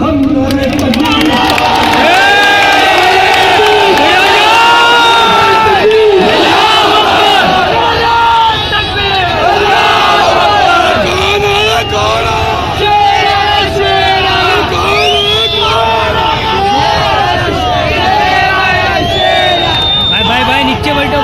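Large crowd at a political rally for Asaduddin Owaisi in Mumbra chanting slogans in loud, continuous unison, dense roaring voices rising and falling together, with shouted leads and answering calls throughout.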